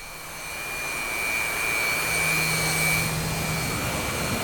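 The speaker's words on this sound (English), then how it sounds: "let's see what the jet sounds like" Jet engine idling in the Digital Combat Simulator game, a steady whining turbine tone over a broad rushing roar, swelling slightly and then holding level, with no talking.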